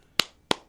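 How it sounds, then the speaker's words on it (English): Three sharp hand claps with uneven spacing, close and crisp, each one fading quickly, in an otherwise quiet room. "Yes, they get claps"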